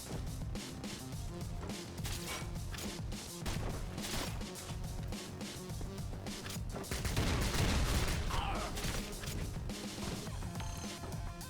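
Grenade explosions and heavy gunfire in a video game, a chaotic run of sharp blasts and rapid shots at moderate level, with a deeper rumbling burst around the middle and no talking.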